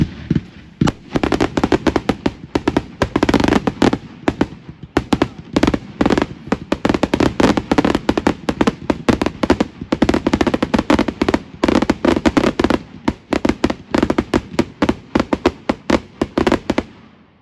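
A Bonfire Night fireworks display in the UK, with rapid, dense volleys of loud cracking bangs and pops that continue almost without pause, punctuated by heavier bursts and crackling, near and sustained throughout.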